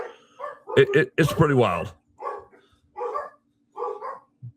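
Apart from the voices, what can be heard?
dogs barking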